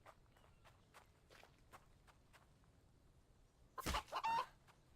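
Chicken in a survival crafting game, The Infected, soft footsteps pattering along quietly before a short burst of louder clucking near the end, with no talking.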